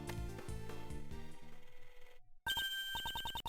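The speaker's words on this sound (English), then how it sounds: "Judge Courtney's cell phone is ringing" Within the Ace Attorney Investigations 2 game, a cell phone rings with a loud electronic tone: a sustained melodic stretch, a brief drop to silence, then rapid pulsing beeps, with no talking.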